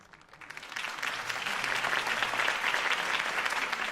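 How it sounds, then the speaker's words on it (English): A video game crowd bursts into applause, the clapping swelling quickly from scattered claps into a dense, sustained roar that holds steady to the end. "If only Mr. Wayne, my campaign's largest backer, could have heard that applause"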